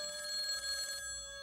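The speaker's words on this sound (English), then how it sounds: "Marshall heard the phone ring, but didn't answer it" A telephone bell rings steadily and fairly loudly for about a second, then stops. No one speaks.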